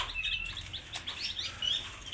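Kacer magpie robins in a bird shop giving quick bright chirps and short whistled phrases, close and fairly loud, repeating over a soft background hum with no talking.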